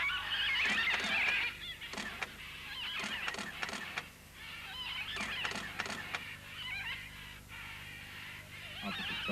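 Red-and-green macaws squawk repeatedly at a mineral clay lick in the Amazon rainforest of Manu National Park, a flock of harsh, honking calls in irregular bursts, some close and loud, others overlapping in the background.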